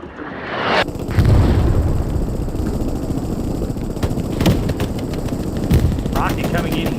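Heavy gunfire and a rolling explosion from a World War II shooter battle at Sainte-Mère, a loud sustained barrage of crackling shots and booms with sharp cracks punctuating it throughout.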